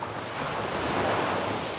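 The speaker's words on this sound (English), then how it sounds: "Soak in the sounds of the waves" Ocean waves wash in a steady, broad roar, with a slight swell toward the middle of a short stretch. Wind-like rushing blends into the surf, and no voices are heard.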